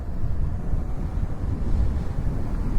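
A Solar Hyperion electric scooter accelerates hard during a top speed run, heard as a steady, loud low rumble of wind and road noise that stays constant throughout with no talk.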